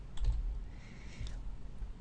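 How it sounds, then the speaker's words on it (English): Computer keyboard clicks and typing at a desk, a few soft taps clustered near the start and again after a pause, fairly quiet against a low steady background hum. "simply click in the search box and begin typing the name of the resident"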